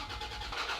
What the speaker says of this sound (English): let's try to start the truck